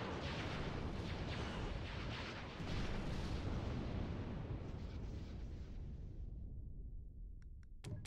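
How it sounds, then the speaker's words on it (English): Continuous rumbling barrage of explosions as capital ships, an Executor and a Praetor, bomb a planet from orbit in a Star Wars space strategy game, loud and dense for six seconds before cutting out, followed by a few faint clicks. "We'll start actually bombing the planet now."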